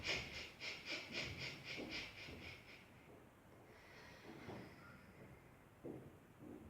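Jerky, dynamic exhalations in a breathing exercise: a rapid run of about ten short, sharp puffs of breath in steady rhythm, close and clear, followed by quieter softer breaths.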